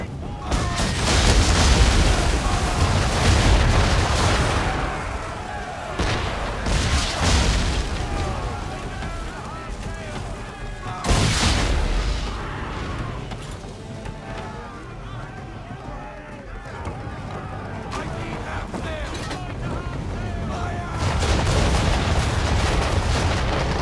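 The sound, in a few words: cannon fire from English frigates in the video game Assassin's Creed III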